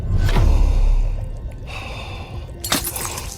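A critically injured man in a game trailer draws a sharp, ragged gasp at the start, then his breathing fades under a low rumble. A second harsh breath breaks through near the end.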